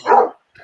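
A dog lets out one sharp, loud bark while attacking, followed by a brief fainter yelp after a short pause, close by.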